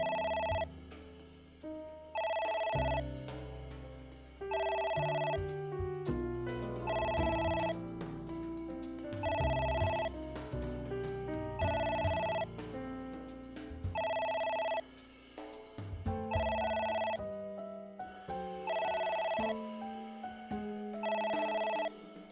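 A telephone rings repeatedly in AI: The Somnium Files, a steady pattern of regular electronic bursts over a background music bed, with no voices.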